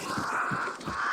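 Crows caw in Hunt: Showdown, three or four harsh rasping calls in a quick rhythmic series over a steady ambient wind, moderately close, with no speech.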